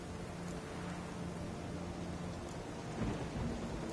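A thunderstorm in The Witcher 3 rolls on as a steady wash of heavy rain with low rumbling thunder underneath, swelling slightly near the end, with no talk over it.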